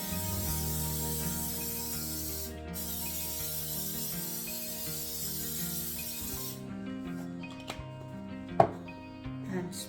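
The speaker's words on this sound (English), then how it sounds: "Going to spray this down." A steady hissing spray of water onto French bread dough runs for several seconds, stops briefly, resumes, then cuts off, followed by a few faint handling taps and thuds.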